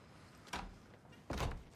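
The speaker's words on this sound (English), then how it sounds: "Close the door." A door pushed shut indoors, two soft muffled thuds about a second apart, fairly faint and with no voices.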